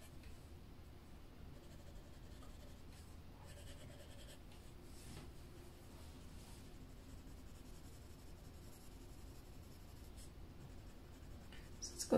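Soft, continuous pencil strokes shading paper while coloring, quick flicking motions at a steady close rhythm, quiet and alone without talk.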